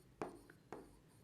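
Pen strokes on paper while taking handwritten notes, two short scratchy strokes about half a second apart, close and quiet in a still room.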